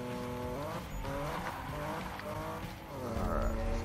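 A car drifting in Need for Speed 2016 on PC: a steady engine drone with tires squealing through the slide, loud and continuous, with no talk over it.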